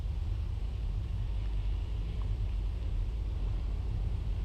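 Steady low road rumble of traffic moving through the narrow streets around Dublin's markets in 1968, a continuous dense drone with no distinct events standing out.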